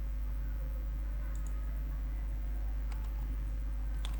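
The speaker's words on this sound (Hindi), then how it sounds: "मैं यहाँ इज इक्वल के साइन पे आके क्लिक करूँगा" Mouse clicks on the equals sign of a computer calculator: a few sharp, faint clicks, a pair near the start and a couple more toward the end, over a steady low hum.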